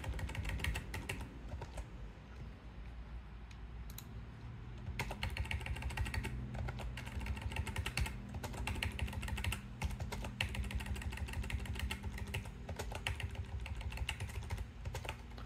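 Computer keyboard keys tapped in steady bursts of typing, including quick shortcut key combinations for copying and pasting, close and clear with no talking over them.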